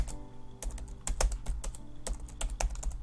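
Quick, irregular clicks of fingers typing on a computer keyboard, close by, with keystrokes coming in uneven bursts over a faint low hum.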